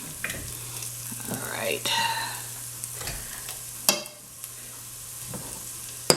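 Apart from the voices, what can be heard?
gravy for chicken livers sizzling while stirred in pan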